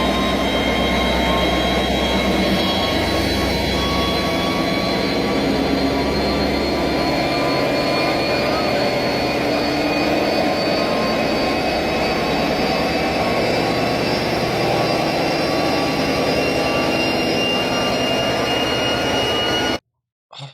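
A massive solid steel diesel generator runs with a loud, steady mechanical roar and constant high whining tones, unbroken until an abrupt cut near the end, with no voices.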